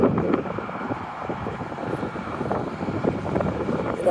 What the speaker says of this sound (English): Oh, it's windy here. I hope that the wind don't drown my voice out